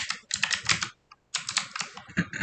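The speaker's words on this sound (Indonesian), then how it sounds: "jadi tinggal ketik" Rapid clattering keystrokes on a computer keyboard come in two dense bursts separated by a short pause, close and crisp with no voices.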